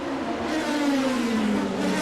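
A Formula 3000 race car engine at Monaco in 2002, a loud, sustained high-pitched wail whose pitch slides steadily downward as the car brakes into a corner, close by with no voices over it.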